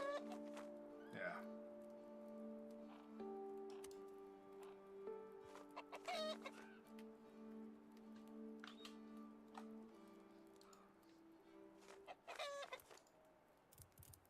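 Chicken clucking in the video game Runescape: Dragonwilds, a few short clucks and calls over steady game music, with a voice talking at points.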